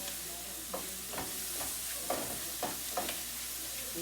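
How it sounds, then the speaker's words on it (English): Food sizzles steadily in a hot pan while being sautéed, with a spoon or spatula scraping and stirring in irregular strokes through the constant frying hiss. "this is sauteing"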